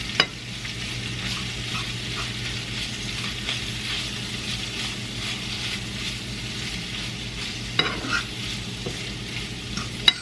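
Veggies for a Philly steak Cobb salad sizzle steadily in a pan alongside steak, with a constant frying hiss, stirring scrapes and a couple of sharper clacks near the end.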